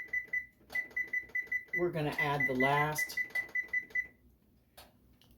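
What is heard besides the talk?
kitchen timer being set, beeping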